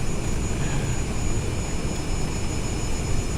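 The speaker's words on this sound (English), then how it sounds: "A lot of jet sounds here." A Grumman Avenger's aircraft engine drones in Microsoft Flight Simulator 2024, a loud, steady, unbroken roar that holds evenly throughout.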